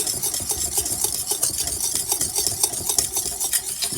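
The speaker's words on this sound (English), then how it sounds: "a spoon of mustard to it, lemon juice, then you start mixing" Homemade cayenne pepper mayonnaise being mixed, with egg yolks, a spoon of mustard and lemon juice stirred in a bowl: close, rapid rhythmic scraping and tapping strokes repeating steadily without pause.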